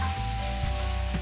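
Mushrooms and onions frying in olive oil in a pan, a steady, loud, close sizzle with occasional stirring scrapes and no talking.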